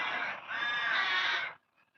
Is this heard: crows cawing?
yes